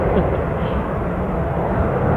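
An airplane at Dublin International Airport makes a steady, loud broadband engine roar that holds evenly throughout, close and continuous, with no voices.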